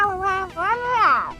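A human voice actor, Frank Walker, imitates a cat's meows for the cartoon cat in the Smurfs film. Two drawn-out, close meows follow each other, the second rising and wavering higher and longer than the first.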